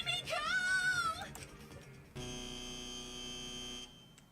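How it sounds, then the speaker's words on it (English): A buzzer from Danganronpa V3: Killing Harmony sounds as a game timer reaches zero, a loud, steady electronic drone that holds for about two seconds and then cuts off. Tonal game sounds come just before it. "Right when the timer hit 0, the buzzer went off"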